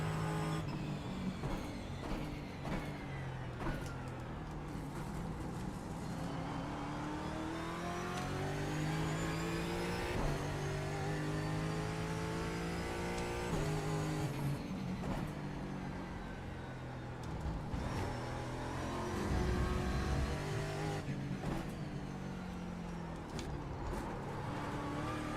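A Porsche race car with engine trouble laps the VIR track, its engine revving and shifting continuously, rising and falling through the gears, close and sustained.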